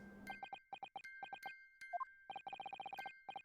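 A music box in The Great Ace Attorney Chronicles chimes a rapid, rhythmic run of bright, clear tones spelling out Morse code, with short and grouped notes broken by brief pauses, heard close and alone.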